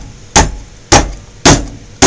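Loud, close metallic clangs from a hammer beating metal against an anvil, four regular strikes with short ringing decays and no voices.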